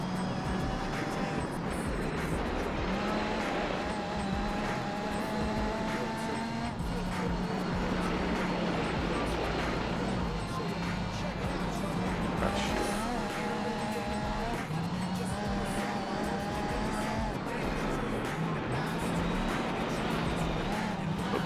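Race car in Gran Turismo 4 carrying a PlayStation 2 advertisement, accelerating hard with a rising and falling engine note through gear changes, steady and loud over a constant rumble.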